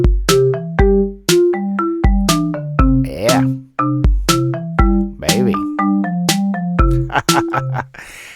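Song Maker plays a remix of Beethoven's Ode to Joy as crisp, bright synthesized notes over a bouncing bass line and drum hits. A brief spoken exclamation cuts in partway through.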